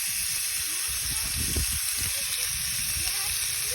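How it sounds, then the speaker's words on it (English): A5 Wagyu beef steak sizzling in its own fat in a pan, a steady loud hiss of frying throughout, with faint low talk underneath. "Cooking in its own fat."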